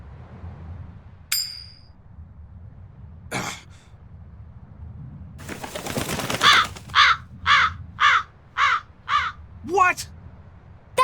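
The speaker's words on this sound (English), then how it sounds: "That crow just flew off with the coin!" A crow in Tales of Berseria gives a brief rasping call, then a run of about six evenly spaced caws, loud and close, after a few sharp clinks and a rustling flurry.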